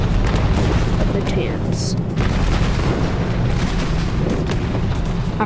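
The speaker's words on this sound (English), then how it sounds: "one of the biggest bombing runs to ever exist in the toy war history" Bombing-run explosions in the toy-soldier video game Plastic Battleground rumble as a continuous loud barrage of booms and blasts, with a voice speaking briefly over the roar.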